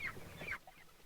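Meat chickens in crates on a moving golf cart, a short burst of close clucking and squawks that stops partway through, leaving quiet rumble behind.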